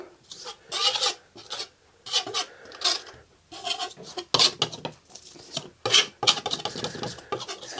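Paint is rubbed back off a canvas in short, rhythmic rasping strokes, close and dry, repeating in bursts with brief pauses between, with no talking.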